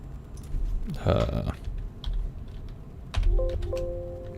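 Computer keyboard typing in short bursts of clicks, fairly close, broken up by a voice talking over it.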